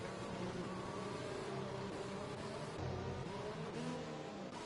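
Race cars circling in a sim racing game at the Hungary circuit under safety car conditions, a steady loud engine drone with shifting harmonic whine throughout, no voices.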